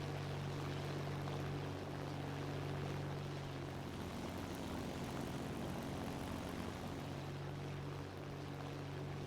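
Steady, loud drone of a BV 155 B-1 aircraft's propeller engine in flight in a video game, a continuous low hum with unbroken roar and slight pitch wobble, no voices.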